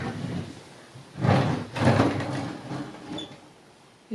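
A dirty drawer slides open in a grandmother's house, giving two scraping rumbles close by, then a faint clack at the end in an otherwise quiet room.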